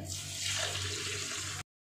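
Water pours from a vessel onto 2.5 kilograms of sugar to start a syrup for rasmalai. A close, steady splashing stream runs for about a second and a half, then stops abruptly.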